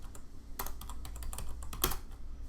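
Quick bursts of keystrokes as a password is typed on a computer keyboard, close and distinct, with short pauses between clusters of clicks and no talking.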